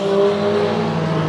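Race car number 95 roars hard around Rocky Hill Speedway during a heat race, its engine a loud, steady, close drone with strong humming tones and no voices over it.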